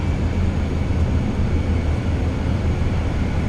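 Airliner taxiing fast in Microsoft Flight Simulator 2024: a continuous loud, steady jet engine rumble with broadband roar, unbroken for the whole stretch.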